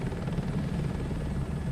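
Helicopter engine and rotor in Microsoft Flight Simulator 2024, a steady close drone with a low rhythmic rotor thump, heard alone at even loudness.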